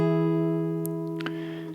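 A single sustained strummed guitar barre chord rings out clearly and slowly decays, with a faint fret or string noise near the end.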